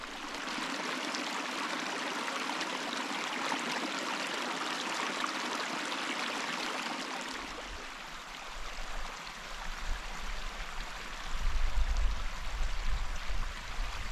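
Creek water at Kuusitsivaara runs steadily as a broad rushing flow, close and continuous, shifting to a nearer gurgling rush partway through with more low-end churn.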